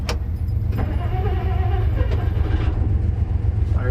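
A 1959 Plymouth engine idles steadily and close by, a continuous low rumble with no break across the span, and no voices are heard over it.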